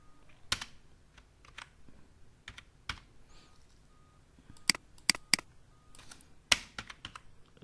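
Keys tapped on a computer keyboard during Excel data entry, a sparse, irregular run of soft clicks with a few sharper strikes clustered near the end, close and quiet with no talking.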